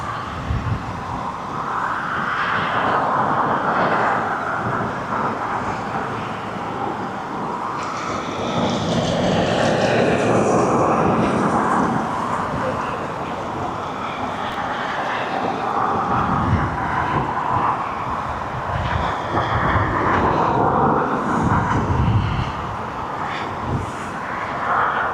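Jet2 jet airliner departing East Midlands Airport for Edinburgh, a sustained broad engine roar that swells and fades gently across about 25 seconds, heard from a distance with wind buffeting the microphone.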